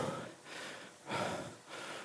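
Deep, heavy breathing in slow alternating inhales and exhales, three or four rounds over two seconds, close and fairly quiet, as a rider recovers after an indoor cycling HIIT workout.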